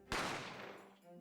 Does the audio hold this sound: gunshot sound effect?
yes